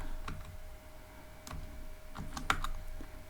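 Scattered keystrokes clatter on a computer keyboard while Python Tkinter code is entered, short irregular bursts of clicks with a couple of sharper taps near the end, close and fairly quiet, without speech.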